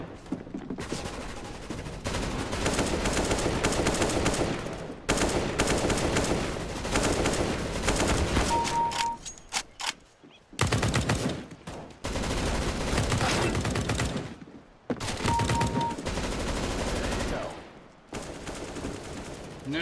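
Gunfire in Counter-Strike: Global Offensive, with long loud bursts of rapid automatic shots in several volleys separated by brief silences, plus occasional short electronic tones.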